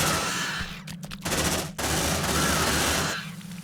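Automatic turret guns rattle off rapid, dense bursts at aliens in the sci-fi game Aliens Dark Descent, the loud fire cutting out in brief gaps before resuming and fading toward the end.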